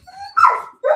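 A dog gives a short whining yelp followed by a quick second bark, close and fairly loud, with nothing else around it.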